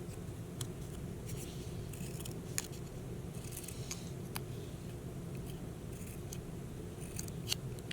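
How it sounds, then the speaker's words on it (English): Scissors snip through paper, cutting small triangle claws for a torn paper owl craft, a series of sharp, close clicks spaced irregularly over a steady low room hum. "And then cut out little triangles for his claws"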